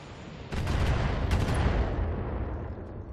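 Heavy mech weapons fire in the BattleTech game as a burst of booming shots with a thick, rumbling tail, loud and close, alone without voices.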